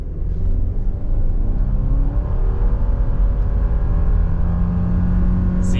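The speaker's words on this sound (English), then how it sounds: "0 to 60 in the 24 Forester Limited. Traction's off, sport mode is on. I'll brake rev the CVT." A 2024 Subaru Forester Limited with a CVT, in sport mode with traction control off, launches from a brake-rev into a full 0-60 run. The engine drones loudly and steadily, its pitch climbing and then holding high, with no voices.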